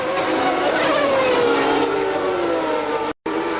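Formula 1 cars, a Pirelli-shod Benetton Ford chasing a McLaren at the 1991 Mexico Grand Prix at Autódromo Hermanos Rodríguez, roar past with a loud, continuous high-revving engine wail that bends in pitch, broken by one brief cut.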